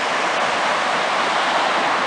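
A flooded river running about 16 feet above its normal level, a steady, loud broadband roar of rushing water that stays constant throughout with no voices.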